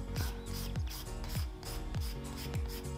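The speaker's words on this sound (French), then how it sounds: "passer un coup de lime très légèrement sur la surface de l'ongle pour griffer" A 180-grit nail file rasps lightly across a fingernail surface in quick, even back-and-forth strokes, about five rhythmic scratches, close and soft with no talking.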